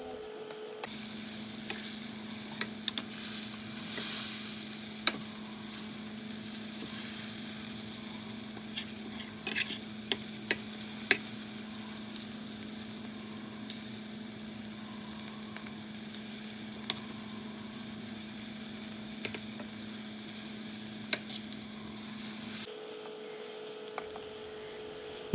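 Fish fries in hot oil with a steady, loud sizzle that runs for about twenty-five seconds, broken by occasional scraping and clicking as the pieces are turned over to crisp both sides.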